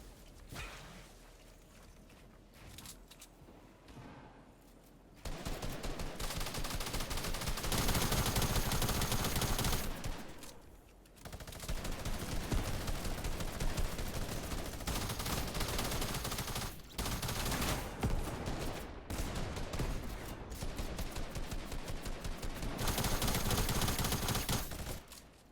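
Tactical shotgun fire in Fortnite, rapid repeated blasts in long sustained bursts separated by brief quiet gaps, loud and close, with mechanical reload clicks between.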